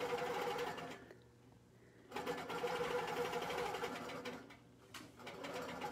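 Janome Quilt Maker Pro 18 Versa longarm sewing machine quilting, a close rapid mechanical stitching whir that runs, stops for about a second, resumes, then dips briefly again, with birds cooing faintly behind.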